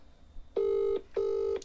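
A telephone rings on a live stream, two steady electronic tones each lasting under half a second with a short gap between them, clear and fairly loud over faint background noise.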